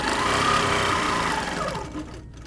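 A sewing machine runs steadily as it stitches along a quilt ruler line on a 6x.5 inch line grid ruler, its continuous needle whir close and loud before it slows and stops near the end.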